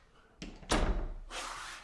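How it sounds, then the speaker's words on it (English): An interior door closes with a soft thud after a brief rub and swish, followed by a short rushing settle, heard close and fairly quiet. "the door is closing"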